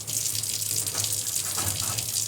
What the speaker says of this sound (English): get the water out of the sponge